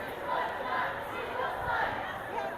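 Protest crowd on a St. Louis street gathering in large numbers, a steady, distant wash of many voices and shouts held at an even level throughout.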